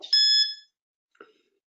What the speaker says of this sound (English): when you hear my timer button, please start with your second pitch